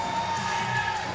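Weightlifting arena crowd at a world cup session cheering and shouting together, a dense, loud roar of voices held steadily throughout.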